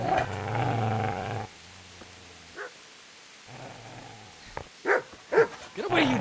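A dog in the Kingdom Come Deliverance video game growls low and steadily, goes quiet, then lets out a few loud, sharp barks close by.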